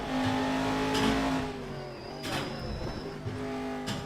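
A race car circles the short Tsukuba circuit in a racing video game, its engine revving high and then dropping as it brakes, with tonal pitch sweeps and a faint tyre squeal, loud and close, without talking.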